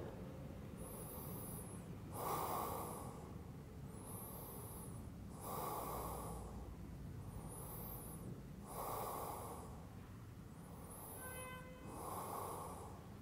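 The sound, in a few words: breathing during yoga stretch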